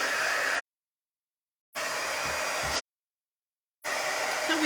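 A hair dryer blows on a sports quotes plaque in three loud, steady bursts of about a second each, separated by silence, no voices.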